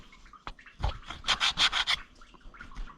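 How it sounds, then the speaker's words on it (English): Scraping on an Oliver 66 tractor engine block: a run of rough rasping strokes, loud and close, about five in steady rhythm, with a few lighter scrapes before and after. "I'm going to be doing a lot of scraping."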